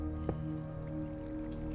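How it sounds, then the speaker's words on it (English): Water flows constantly in a Minecraft channel, heard as a steady liquid wash with soft drips over a droning background tone, faint and unbroken throughout. "the water constantly running"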